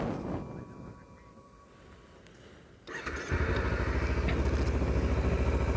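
A 2014 Kawasaki Ninja 300 motorcycle starts up: a quiet pause, a brief cranking clatter, then the engine catches and settles into a loud, steady idle, close by.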